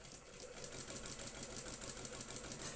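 A sewing machine stitching down a handbag zipper placket, a quiet rapid needle rhythm of evenly spaced clicks and a soft motor whir running steadily, close and without talking.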